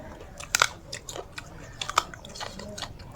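Crunchy homegrown food is bitten and chewed close up, with sharp crisp crunches followed by a steady run of softer chewing crackles.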